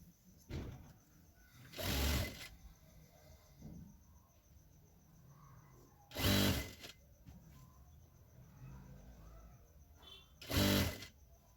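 A sewing machine stitches elastic onto a ladies' pant in three separate loud bursts of fast whirring, with quiet pauses between them and no speech.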